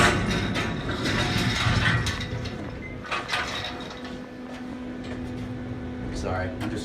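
An Otis hydraulic elevator runs with a steady mechanical hum and whir, broken by clicks, clunks and a sliding-door rumble, while people nearby talk briefly.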